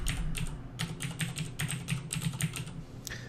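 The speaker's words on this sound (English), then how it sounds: "I'm going to enter the name of one of my domains" Steady run of computer keyboard keystrokes as a domain name is entered, quick irregular clicks close up over a low hum, ending in a slightly louder final key press.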